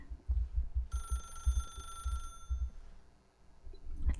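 A telephone rings in the video game The Stanley Parable, a bright electronic ring lasting about a second and a half over soft low thumping background sounds.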